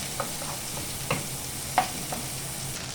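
Onions go into a little oil in a pan for hawawshi and fry with a soft, steady sizzle, broken by a few faint scraping stirs of a utensil.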